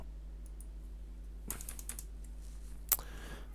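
Brief bursts of typing on a computer keyboard, a few quick clustered key clicks followed by a sharper tap, faint and close over a low steady hum.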